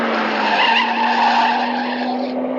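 Car tires skidding in a 1971 movie driving scene along the Mediterranean coast, a steady, loud screech sustained for a few seconds with no talk over it.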